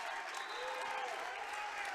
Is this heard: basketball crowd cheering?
yes